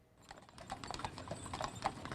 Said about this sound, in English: A horse-drawn caisson carrying the body of Americus police officer Nicholas Smar